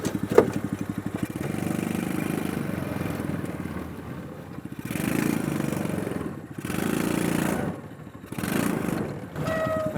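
A small mini jeep engine chugging with a rapid, uneven putter that swells and fades as the throttle rises and falls in several surges over ten seconds, close and fairly loud.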